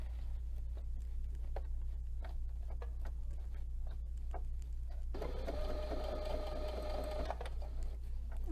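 A sewing machine runs briefly near the end, a steady whirring hum that lasts a couple of seconds while top stitching a Sashiko zipper pouch. Soft ticks and handling noises over a constant low background hum come before it.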